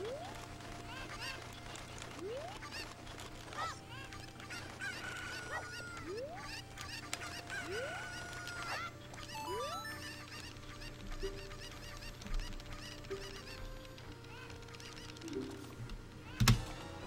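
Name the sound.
chicken clucking in a video game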